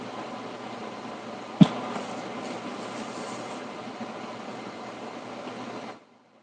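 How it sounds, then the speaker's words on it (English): Steady broadband whoosh of an air conditioner or electric fan running in a room, even and constant throughout, with one brief sharp knock near the start and the noise cutting off abruptly at the end. "the wind sound in the background? Because that could either be Haley's air conditioner or my fan"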